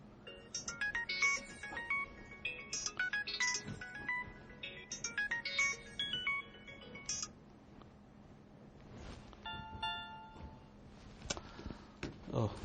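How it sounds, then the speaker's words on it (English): A mobile phone rings with a repeated electronic melody in bursts, then a few brighter tones and clicks follow, all fairly quiet in a still room. "My mobile phone rings."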